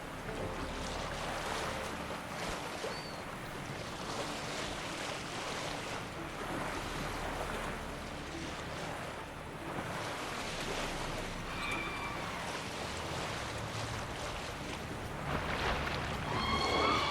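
Sailboat crossing open sea in The Witcher 3, with a continuous rush of waves and wind washing around the hull, moderately loud and steady, swelling slightly at the end, with no talk.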